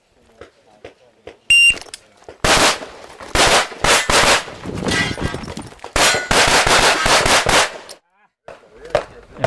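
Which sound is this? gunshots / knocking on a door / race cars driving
gunshots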